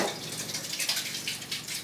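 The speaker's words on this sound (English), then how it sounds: "I'm going to add a little water, a little more water to the slip" Water pours steadily into iron slip in a pottery studio, a continuous close splashing trickle with no pauses.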